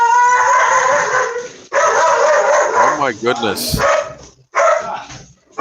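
Several dogs bark, yip and howl loudly and close by, with a startled person exclaiming over the din and a few brief pauses between bursts.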